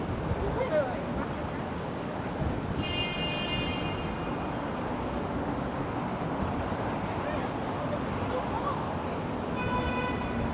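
Wind buffets the microphone aboard a boat on the water in New York City, a continuous rough rumble with brief faint tonal chimes in the background.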